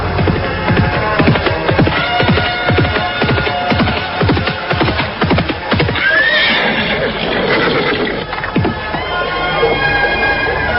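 A horse neighs and its hooves clop steadily at a galloping rhythm in a radio drama, loud and close, with crowd noise and music layered behind, the hoofbeats fading as a whinny rises.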